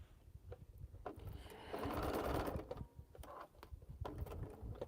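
A sewing machine stitching quilt seams runs in a steady burst of about a second mid-clip, with quieter mechanical clicks and handling before and after.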